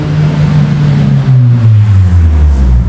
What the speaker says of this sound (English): Race car just went by. Honda.